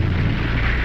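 Torpedo blast from the Confederate submarine H.L. Hunley striking and sinking the USS Housatonic: a loud, sustained low rumbling roar that fills the whole moment, heavy and continuous with no voices.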